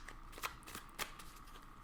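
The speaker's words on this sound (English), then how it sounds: "So I'm going to shuffle, and I'm going to take out one card for each subunit" Tarot cards being shuffled by hand, quiet papery riffles and soft flicks in short bursts with a couple of sharper snaps, close and faint, no voices.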